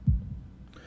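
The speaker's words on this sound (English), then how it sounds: "holding my breath in an attempt to hear my heartbeat. Dun." A single low, muffled heartbeat thump from the visual novel Katawa Shoujo, close and soft, fading into a quiet hum.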